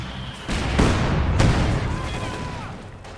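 Bursts of submachine gun fire in a Company of Heroes 2 battle, loud and close, mixed with booms and chaotic gunfire, with voices speaking over the combat.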